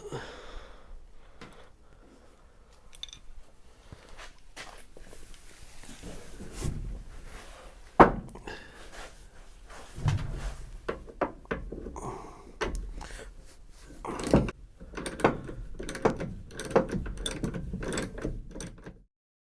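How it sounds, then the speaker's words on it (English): Doors being taken off a 1964 Ford Falcon Futura: scattered metallic clicks, ratcheting and clunks of tools and hinge hardware, with a few sharper knocks and a steady run of small mechanical taps up close. "Time to remove these doors."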